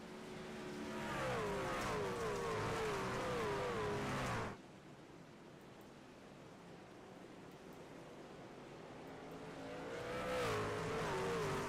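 Dirt race cars at a dirt track race roaring past with rising and falling engine whines, then a quieter stretch of distant rumble before another car's engine builds again toward the end.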